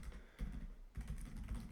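Quick, light typing on a computer keyboard, a steady run of close, crisp key clicks with a brief pause near the middle, alone without talk.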